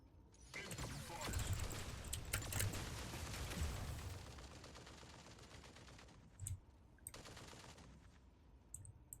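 Rapid gunfire from a video game, a dense sustained burst of shots for several seconds that thins out, followed by a few isolated sharper pops and mechanical clatter.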